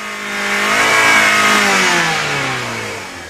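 Toyota car engine revving high with the gas pedal pinned down by a wrong-sized all-weather rubber floor mat, a loud sustained roar that climbs then slowly sags in pitch.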